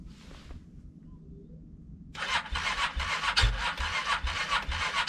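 A Honda CRF300L motorcycle failing to start in -30C cold: after a stretch of near silence, a harsh, steady churning grind sets in and keeps going for several seconds without the engine catching.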